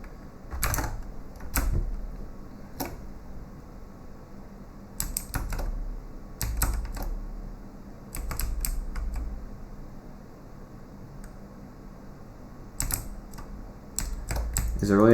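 Sharp mouse clicks come in small bursts and single taps amid a quiet room during a Blue Prince gaming session, some clustered in quick doubles and triples, with a voice talking intermittently around them.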